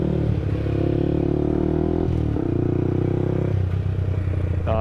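A 2019 Yamaha YZF-R125 motorcycle engine runs close and fairly loud, a steady buzzing drone with two brief dips where the revs shift before settling again.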